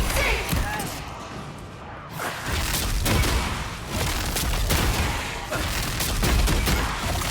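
Bounty shots fired in the video game Avowed: a rapid fusillade of sharp gunshot bursts and booms with a brief lull, loud and continuous, a voice talking briefly among the shots.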